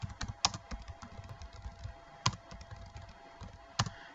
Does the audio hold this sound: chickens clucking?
no